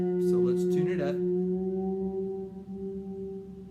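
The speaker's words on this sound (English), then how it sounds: "Now I'm tuning my G string." A guitar G string rings out steadily after a few short sliding squeaks, its tone holding and slowly fading, close up and alone.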